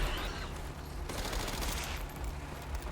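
Rapid gunfire in Resident Evil Requiem, a dense burst of automatic shots crackling almost continuously over about three seconds, fairly faint in the mix with no talk.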